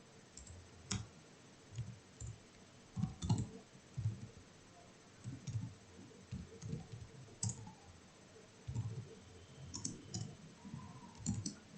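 Computer keyboard typing while writing a Node.js MySQL query, quiet close-up key clicks in irregular bursts and pauses across the whole stretch.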